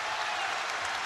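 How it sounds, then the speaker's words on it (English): Crowd at a college basketball game between CCSU and Providence cheers and applauds in a dense, loud, steady roar inside the Amp arena, with no break in the noise. "Crowd energized here at the Amp."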